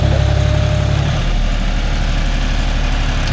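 A John Deere 5045D 4WD tractor engine runs close by with a steady low diesel idle and throb, strongest in the first second, then continuing as an even rumble, working a 9-tine cultivator in a coconut grove.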